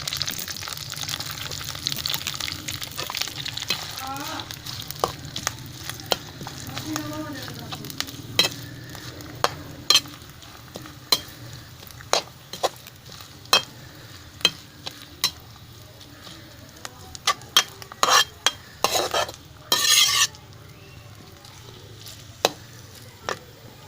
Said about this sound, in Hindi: आप इसको डालना है घी में और इसको ब्राउन करना है।